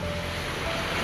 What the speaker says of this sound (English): The stream then pans to a fast-flowing stream of water